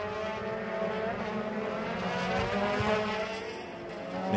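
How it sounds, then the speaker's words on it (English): Euroformula Open single-seater race cars at Jerez accelerate out of a hairpin, a loud, steady multi-engine roar with rising harmonic whine that swells slightly toward the end, no voices over it. "the pair of them accelerate out of the hairpin on towards turn 1"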